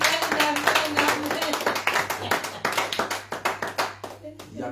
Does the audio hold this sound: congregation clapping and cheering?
yes